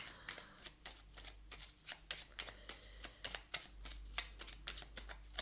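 Tarot or oracle cards are shuffled by hand during a card reading, a rapid run of crisp papery riffles and slaps, close and steady, with no voice over them.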